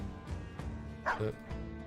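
War dogs in the Battle Brothers video game bark in a few short, sharp yaps over a busy game soundscape, with one louder bark standing out near the middle.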